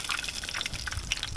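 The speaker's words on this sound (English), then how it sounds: "So we're going to just let this continue bubbling away" Battered fish fillet frying in hot oil, a close, busy crackle of bubbling and popping that continues steadily without voices.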